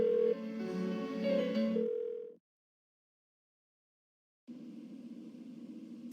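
A phone ringing unanswered in the video game Persona 4 Golden, two tonal ring bursts separated by a long silent gap, fairly faint and alone.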